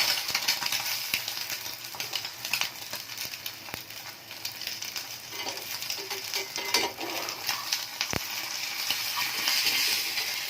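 An egg half-frying in a pan with no flipping, giving a steady, close crackle and sizzle with scattered small ticks and pops throughout.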